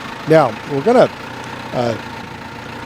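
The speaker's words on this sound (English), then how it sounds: "we want to start the tractor up and get it up to operating temperature so all the oil comes out" A tractor engine idles with a steady low rumble, running in the background while someone talks over it.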